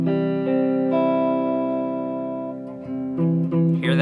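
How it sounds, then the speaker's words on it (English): A muffled electric-effected guitar chord is strummed and left ringing, with a fingertip resting on top of the fret. It sounds dull and sustained, with a fresh strum near the end and no talking. "Hear that note is muffled?"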